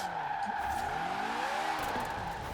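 A car drifts in Forza Horizon 4 with its tires squealing in long sliding whines over a steady engine hum, the pitch sweeping up and down as the slide continues for a few seconds.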